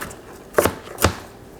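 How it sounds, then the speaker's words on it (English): A knife chops through fennel on a cutting board, two crisp, separate strikes spaced about half a second apart, close and clear with no talking. "take your knife, and then just start chopping on down"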